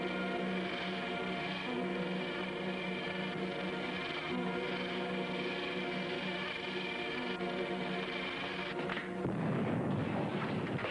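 A radio-drama explosion effect, a dense sustained roar that rumbles steadily and then breaks into a heavier low burst near the end, with no voices over it.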